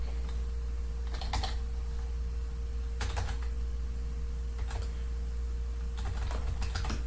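A password is typed on a computer keyboard in short bursts of rapid key clicks, four clusters separated by quiet pauses over a low steady hum, with no talking.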